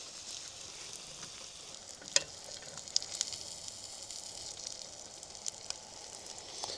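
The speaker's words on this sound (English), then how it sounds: "Don't want to cool that grease down too much. Want them to fry fast." Pieces of caught fish frying fast in very hot grease over a cranked-up burner outdoors under a bridge, a steady bright sizzle with a few sharp pops and crackles throughout, close and fairly loud, no talking.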